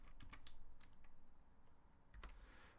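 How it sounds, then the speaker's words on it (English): Typing on a computer keyboard, quick irregular clicks in short bursts close by, with a low room hum underneath and no talking. "I'm typing Chinese right now."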